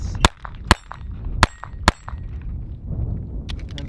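Four sharp gunshots from a Taurus TX22 handgun, each ringing as it strikes steel targets, spaced irregularly, followed by fainter metallic pings and background rumble.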